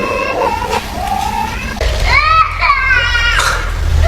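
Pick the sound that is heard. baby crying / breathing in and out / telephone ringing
baby crying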